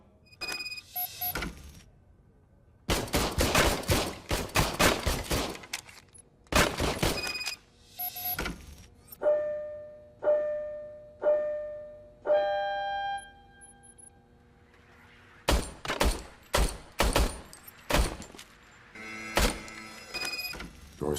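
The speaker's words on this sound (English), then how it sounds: "I was issued this old gun and serviced it according to the manual. I will try it out." An old service gun being handled and fired in RoboCop Rogue City: clusters of sharp, loud metallic cracks and bursts, with a middle stretch of repeated mechanical clanks and whirring tones, and no talk.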